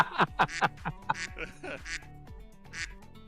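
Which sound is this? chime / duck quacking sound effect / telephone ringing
duck quacking sound effect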